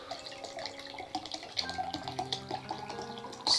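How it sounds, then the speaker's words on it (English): Water pours from a container into a cup, a soft, close trickle with a rising gurgling pitch as the cup fills, quiet and steady with small splashes near the end. "I'm adding some more water to my cup"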